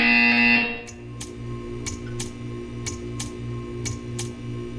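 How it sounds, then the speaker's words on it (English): A steady electronic buzzer tone from the video game Portal 2 sounds briefly, then stops, followed by a series of sharp regular clicks over a low hum. "You will hear a buzzer."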